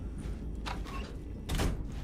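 A door sliding open in the video game Alan Wake, a short grinding mechanical slide followed by a brief rushing swell, heard alone at moderate volume.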